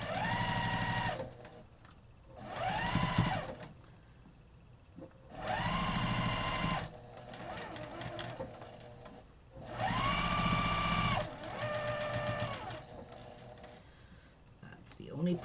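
A sewing machine stitches the seams of Broken Dishes quilt blocks, running in five loud, steady bursts separated by pauses. Faint handling noise and a soft voice fill the quiet gaps.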